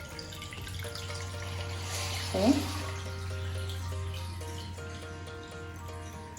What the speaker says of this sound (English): remember to pour it like you're pouring a beer, so you keep all those antioxidants in there